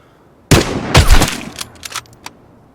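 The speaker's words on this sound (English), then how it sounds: "that was a gunfight I was witnessing" A burst of gunfire during a gunfight in the video game Vigor, several loud close shots in rapid succession followed by fainter, scattered reports that fade out.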